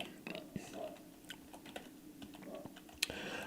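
Fingers tap out code on a computer keyboard in a quiet room, a soft, irregular patter of key clicks with scattered louder strokes and faint low room noise throughout.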